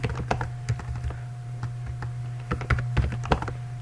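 Close, irregular keystrokes on a computer keyboard while code is typed, bursts of clicks with short pauses over a low steady hum.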